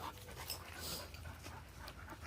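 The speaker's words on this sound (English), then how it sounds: "Get out here with the dogs, make sure they exercise." Dogs panting outdoors while out for exercise, quick breathy rhythmic huffs close by, fairly faint against open air, with no talking.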